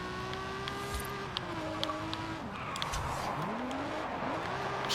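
A boosted race car rips hard through second gear on a barrier-lined track with the e-brake pulled, its engine note climbing and dropping in loud, close sweeps with a faint tire squeal.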